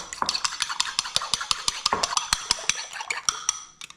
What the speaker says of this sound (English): Here's 1 egg, and there's 2 eggs. I'll beat them up.